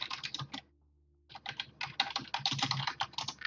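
Fast, uneven bursts of keystrokes on a computer keyboard, clattering close and clear, stopping for a short pause before resuming in a dense run of clicks.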